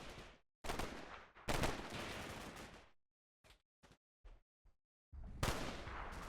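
Gunfire in a Combat Mission: Black Sea firefight, with long loud bursts of sustained automatic fire, then a string of short sharp single shots, then another heavy burst.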